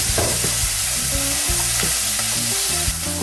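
Onion and garlic fry in rendered bacon fat in a pan, a steady, close sizzle with scattered crackles and light scraping as they are stirred, with no talking.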